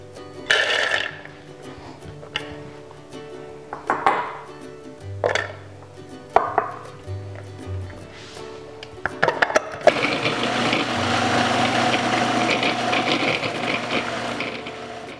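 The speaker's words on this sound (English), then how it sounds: "I'm going to give a little pre-chop to these pecans, and I'm going to throw the garlic in there as well" Food processor pulsing pecans and garlic in short bursts with clattering pieces, then a steady loud whirring run of several seconds as the nuts are chopped evenly.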